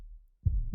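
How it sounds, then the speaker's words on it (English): A deep heartbeat pulse from a tabletop fantasy game's background music: a close, low double thump at the end of a brief quiet stretch. "Like, yeah, you're right. Like there's a heartbeat."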